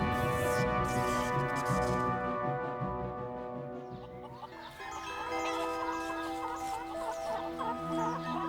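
A chicken clucking among a busy flock of fowl, layered continuous clucks and calls filling the scene, fairly loud and close with no talk.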